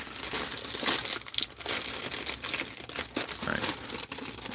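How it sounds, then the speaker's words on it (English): Plastic bags crinkle and rustle in hands close by, with irregular crisp crunching bursts that come and go without pause, and no talking. "These plastic bags are the bane of my existence."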